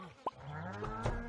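A cow moos in the Stardew Valley farming game, one short, clear, close moo with a rising tone, preceded by a brief click.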